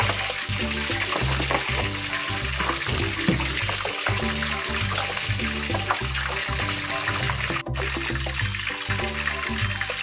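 Pork leg for crispy pata deep-fries in a partly covered pan of oil, giving a loud, continuous sizzle and crackle heard up close without talk.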